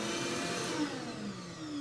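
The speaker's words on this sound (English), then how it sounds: "that turns my vacuum on from the other side of the room" A workshop vacuum runs with a steady, loud whine and roar, its pitch drifting slightly as it spins, with no voices over the motor.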